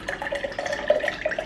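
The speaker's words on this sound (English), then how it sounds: "I want to pour it into a glass so we can really see what it looks like." Strawberry boba milk drink poured into a glass makes a short, gurgling, bubbly liquid sound, close and fairly quiet, with no talking.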